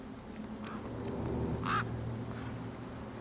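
Birds call in the Beyond a Steel Sky video game, with one clear quacking squawk rising over a dense, steady background ambience and fainter calls scattered around it.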